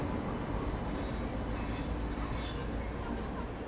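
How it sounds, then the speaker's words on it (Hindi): The Duronto Express pulls out of a station bound for Bengaluru as a dense, steady rumble of rolling railcars, with faint squeals and clinks from the wheels above it. "ये दुरंतो निकली बेंगलोर के लिए एक लंबे सफ़र पे।"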